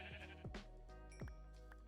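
A sheep bleats a few times in a Minecraft modpack, the short wavering calls sitting over a busy backdrop of steady game tones and other effects.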